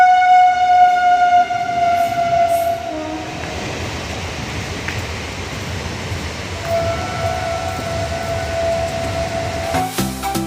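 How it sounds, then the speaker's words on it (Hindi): A train passes through a college campus in Allahabad, a steady rumble with long horn blasts sounding loud and close near the start and again midway, ending in a sharp clatter. "यहाँ तो कॉलेज के अंदर से ट्रेन जाती है"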